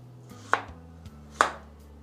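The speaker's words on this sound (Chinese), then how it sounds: "再来准备半个洋葱，先切成1公分左右的厚片" A knife cutting half an onion into thick slices of about one centimetre, two crisp, close chops against a board about a second apart.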